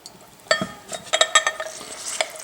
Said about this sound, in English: So cut them in half and juice them.